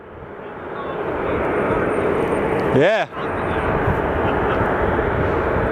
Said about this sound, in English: let's catch this plane for Miami